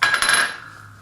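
A metal lid set onto a soup pot of chicken rice soup gives a single bright clink that rings briefly and fades, close and clear, with no talking.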